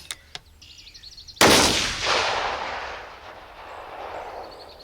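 A single sharp, loud rifle shot fired outdoors while zeroing a TWILITE scope, followed by a long rolling echo that fades over several seconds; a couple of faint clicks come before it.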